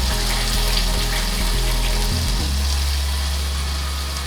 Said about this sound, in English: I'm gonna let the juice go in first, and I'm gonna get as much juice as possible